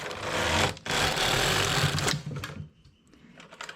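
A knitting machine carriage is drawn across the needle bed to knit one row, making a loud rattling, clattering rush for about two seconds that then fades into softer clicks and handling noise.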